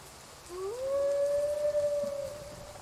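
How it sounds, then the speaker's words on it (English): A single wolf howl rises near 0.5 s into a long steady tone held for almost two seconds, then tails off, sounding fairly clear over a faint rain hiss in the background. "A wolf."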